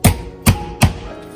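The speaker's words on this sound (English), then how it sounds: "I find it easier when I flip it over on the meat side to cut it on the bone" Three sharp knife chops through the bone of a whole raw chicken on a cutting board, evenly spaced and close, each a crisp thud with no talk over them.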